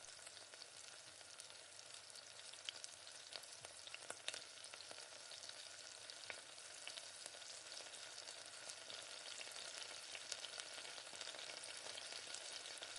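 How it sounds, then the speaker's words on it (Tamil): Onions sauté in oil for biryani, giving off a faint, continuous crackling sizzle with small pops throughout. No one speaks. "அது வரையும் நீங்கள் பொறுமையாக நல்லா இந்த மாதிரி வெங்காயத்தை நல்லா வதக்கி விடுங்க எண்ணெயில்."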